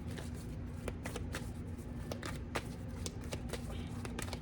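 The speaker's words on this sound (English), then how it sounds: "Let's get some more cards out here." Tarot cards are shuffled and drawn close up, making a steady run of quick riffling flicks and soft snaps that last the whole moment, with no talking over them.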